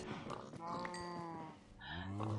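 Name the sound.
farm animals, cows and pigs, in the video game Minecraft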